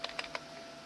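A computer keyboard being typed on, with four crisp, close keystrokes spaced irregularly across a quiet moment, three in quick succession and one after a pause.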